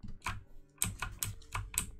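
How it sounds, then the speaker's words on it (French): Keys on a mechanical keyboard clack in quick irregular bursts, close to the microphone, with brief pauses between clusters of strokes. "Éloigne un peu de ton clavier mécanique du micro"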